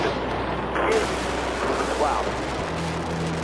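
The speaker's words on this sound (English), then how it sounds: "A large explosion." A large explosion booms as a heavy, rumbling roar that swells and lingers for several seconds, with a voice talking over part of it.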